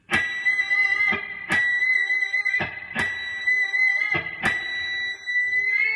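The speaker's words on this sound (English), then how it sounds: "Here's number 4B with distortion." A gritty, overdriven electric guitar picks the 8th fret of the 2nd string four times in a row, each note ringing out loud and sustained before the next strike.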